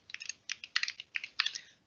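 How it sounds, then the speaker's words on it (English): Quick bursts of keystrokes on a computer keyboard, typing a short search keyword in clustered clicks with brief pauses, close and fairly quiet, no voices. "So I'm typing in a quick keyword, Anaheim."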